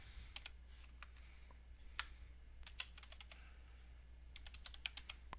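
A password being typed on a computer keyboard: a quiet run of individual key clicks in irregular bursts, close and clear against a low steady hum, with no voices.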